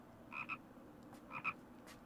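A frog in a Naruto Shippuden episode croaks in two short paired bursts about a second apart, faint and clear over quiet background.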